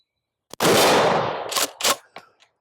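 A Vang Comp Remington 870 shotgun fires a 1-ounce slug at a steel silhouette 50 yards out: one loud, sharp blast with a long rolling tail, followed by two quick metallic rings and fainter clanks from the swinging target.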